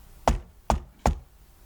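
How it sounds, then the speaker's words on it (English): Three loud, evenly spaced knocks on a wooden door ring out alone, each sharp and heavy with a short boomy tail. "The knocking continued."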